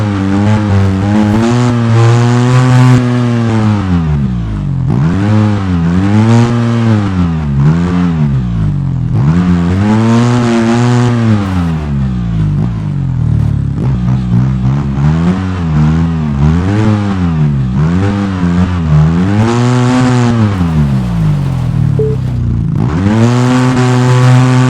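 A car engine in the off-road driving game Overpass drones loudly and continuously, its pitch rising and falling in repeated revving swells as the vehicle climbs and drives over rough ground, with no other sounds.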